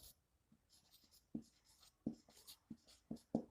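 Strokes of writing on a board during a chemistry lesson come as a faint, scattered series of short scratches and taps with pauses between them.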